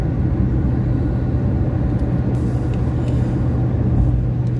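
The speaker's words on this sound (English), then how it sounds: "There's a lot of traffic on the road today for this weekend." Steady low road rumble of traffic heard from inside a car driving through town on a busy weekend, a continuous engine and tire drone with no voices.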